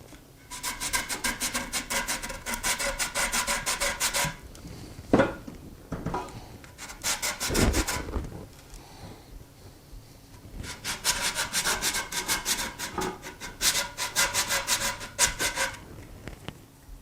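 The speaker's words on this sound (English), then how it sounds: "take a little bit of sandpaper, and we're just going to go along here, sand this down until that nose cap fits really nicely on there" Sandpaper rubbed back and forth along the wooden stock of an Ishapore 2A1 rifle to fit the nose cap, in steady rhythmic bursts of close scratchy strokes separated by short pauses.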